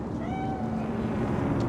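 A cat in the video game Cyberpunk 2077 mews a few soft, drawn-out meows over a steady ambient background hum, with no talking.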